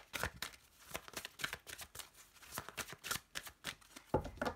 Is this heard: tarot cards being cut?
yes